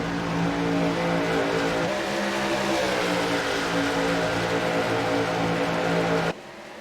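NASCAR trucks racing at Kansas in a racing video game, a steady loud drone of several engines howling together at sustained speed, pitch shifting slightly as the field runs on, cutting off abruptly near the end.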